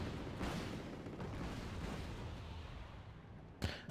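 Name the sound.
TOW missiles being fired in video game Wargame AirLand Battle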